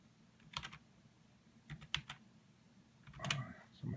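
Typing a key code on a computer keyboard while logging in with a digital signature, with short clusters of keystrokes near 0.5, 2 and 3.3 seconds separated by quiet gaps and no talk.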